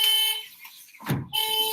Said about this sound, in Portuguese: Vamos ver se esse carro para de buzinar aí